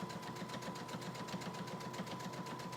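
Sewing machine running steadily while stitching a zipper onto a hoodie, a close, continuous rapid needle chatter with an even pulsing rhythm and a steady motor whine underneath.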